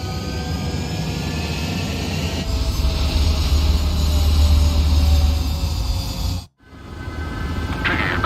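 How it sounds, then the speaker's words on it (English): Loud, steady jet engine roar from a fighter taking off in the video game Ace Combat 7, building in power before a brief cut, then resuming, with no talk over it. "Mage 2, clear for takeoff."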